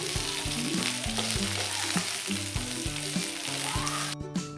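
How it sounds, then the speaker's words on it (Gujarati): Mustard seeds and chopped bell peppers fry in hot oil over a medium flame, giving a steady close sizzle with occasional stirring scrapes, while music plays underneath. "હવે તેમાં રાઈ નાખીશું, ચોપ કરેલા શિમલા મરચાં નાખીશું, થોડીવાર હલાવીને ફ્રાય કરીશું।"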